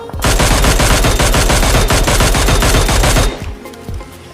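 Rapid automatic gunfire from a weapon in PUBG Mobile rattles in a fast, even stream of loud shots for about three seconds, then stops abruptly, leaving a quieter background.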